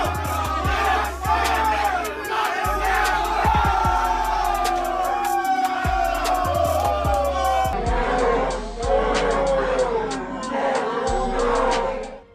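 A crowd at a street fight cheers, shouts and laughs loudly and continuously, with excited voices overlapping throughout.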